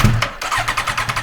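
A Suzuki GSX-R 1000 motorcycle engine turns over with a rapid rhythmic cranking burst, then catches into a pulsing, close, loud idle during a rebuild.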